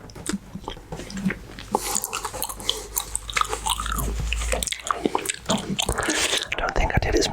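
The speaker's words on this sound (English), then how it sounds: "I don't think I did as many gum chews as I was planning there" Gum chewed close to the microphone in an ASMR session, with wet, sticky bites and chews repeating irregularly under soft whispered speech.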